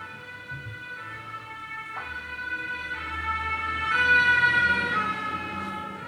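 Fire engine siren in the Zelda game The Missing Link, a steady multi-tone electronic wail with rising pitch sweeps, continuous and fairly loud over a low rumbling game soundscape.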